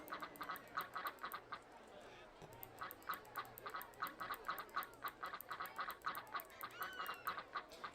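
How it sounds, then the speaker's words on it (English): Ducks in the theme-park game OpenRCT2 quack in a quick, repeated series of faint calls, with a person talking quietly underneath. "ducks!"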